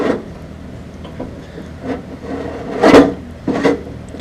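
A cooling fan on a car engine scraping against the alternator, heard as intermittent gritty rasps and rubbing bursts over a low engine rumble, the strongest scrape near the middle and another shortly after.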